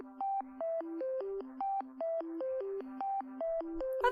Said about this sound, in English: Valve ringtone. It was officially issued by Valve on their website.